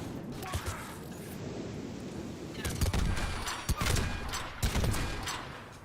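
Gunfire from an M99 Sabre sniper rifle in Mass Effect 3 multiplayer, several sharp cracks and bursts scattered through a noisy game mix, with a player talking over the action.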